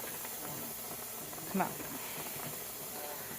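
Steam hisses steadily from a pressure canner holding minestrone soup, a continuous airy rush with a brief louder puff midway as someone speaks quietly over it.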